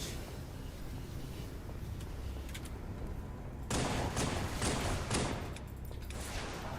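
Rapid gunfire in the shooter game Halo 2, bursts of automatic shots crackling over a constant roar, growing louder and denser midway, with no voices.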